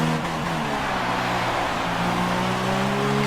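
Race car engines in F1 2016 at the Hungary circuit: a loud, steady high engine drone with rising harmonic tones as a rival car draws alongside and pulls past, close and continuous throughout.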